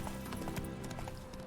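Horse hooves in The Witcher 3: Wild Hunt clop at a quick, steady gallop, faint and continuous under a dense game background.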